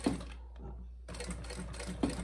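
A sewing machine stitches a bag in a quiet workroom, its motor whirring in short bursts with a brief pause in between and rapid needle clatter, quiet and close.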